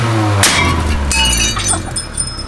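A thin wine glass shatters with a sharp crash followed by tinkling, ringing shards settling, loud and close against a steady low hum.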